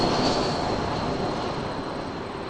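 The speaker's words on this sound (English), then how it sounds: "Yes, I know there's an airplane coming in." Airliner on approach to Toronto Pearson airport, a steady broad engine roar that stays loud throughout and eases slightly toward the end, with a faint high whine running over it and no voices.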